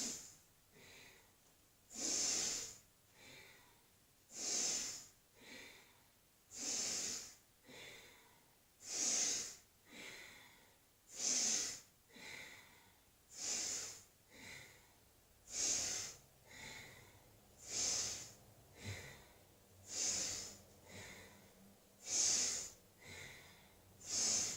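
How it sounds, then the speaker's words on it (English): Rhythmic breathing during a Tibetan rites exercise, each breath a loud, breathy rush with a snorting, hissing edge, repeating steadily about every second and a half for the whole stretch, close to the listener, with no talking. "breathe in for one side, breathe out for the other."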